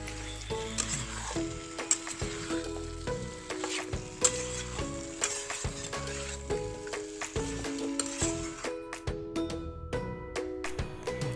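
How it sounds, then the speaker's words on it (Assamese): Raw papaya pieces stir-fried with chicken in a curry pan, giving a steady close sizzle broken by repeated scraping and stirring strokes, with no talk. "এতিয়া মই ইয়াত কাটি ৰখা অমিতাখিনি ইয়াত দি লৈছোঁ। দি লৈ এইখিনিও মাংসখিনিৰ লগত লৰাই ভাজি ল'ম।"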